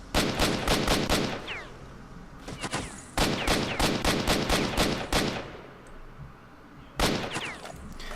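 Automatic gunfire in S.T.A.L.K.E.R.: Shadow of Chernobyl cracks out in loud, rapid bursts with short pauses between strings of shots, echoing under an ambient game background.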